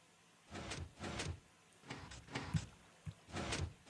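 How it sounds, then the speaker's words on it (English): A slow Minecraft piston door in a theatre build moves through its sequence in several separate mechanical bursts, each a short scraping slide followed by a pause, fairly quiet and with no talk over it. "And now, is the piston door open?"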